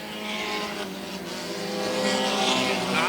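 Stock race cars racing at Airborne Speedway in Plattsburgh, New York, a loud, droning chorus of engines at speed with whining tones that rise and shift as the pack comes off a turn.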